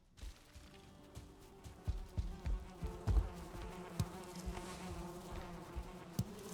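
Bees buzz faintly in a video game, CoCoCo, a soft insect drone under scattered low thumps and clicks of game activity, steady throughout the few seconds.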